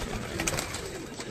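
Pigeons coo on a rooftop, a short, steady murmur of soft calls blended into constant broadband background noise, with no voices.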